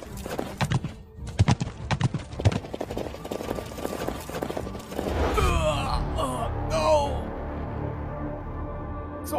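Horse hooves clip-clop at a steady walking rhythm, sharp and fairly close, for several seconds. A horse then neighs and whinnies loudly, with more movement underneath.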